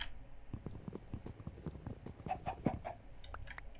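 Chickens cluck repeatedly in the video game Minecraft, a busy run of short, low clucks over a soft background, with a few brighter calls in the middle.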